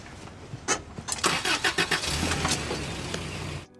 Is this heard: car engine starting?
yes